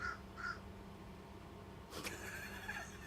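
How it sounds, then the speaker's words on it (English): Two short caws from a crow sound at a distance at the start, faint over a steady hum of room noise. A sharp click follows later, then a faint high tone. "where is that damn crow?"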